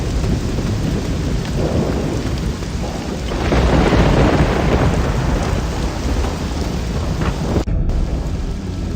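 A loud, continuous thunderstorm in Risen 2: Dark Waters video game, with heavy rain and a swelling low rumble of thunder that peaks in the middle, followed by a brief sharp cut near the end.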